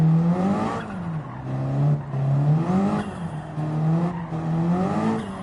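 Simulated car engine in Gran Turismo 7, driven normally, a steady loud engine tone rising and falling in pitch with repeated revving cycles and gear shifts, no talk.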